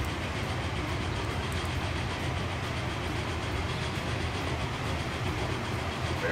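The Flying Scotsman steam train runs in the Transport Fever video game, a steady dense rumble of wheels and rolling stock that holds at an even level with no voices.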